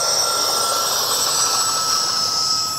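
An E-flite F-14 Tomcat RC jet with twin 40mm electric ducted fans roars steadily and loudly at takeoff, a constant high-pitched whine with a sharp tonal edge and no talk.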